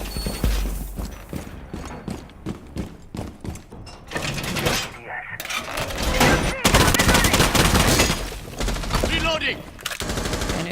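Dense gunfire from a competitive esports shooter match, aimed at a garage wall, fills the whole stretch, with rapid bursts, single shots and clattering mechanical effects dense under faint background voices.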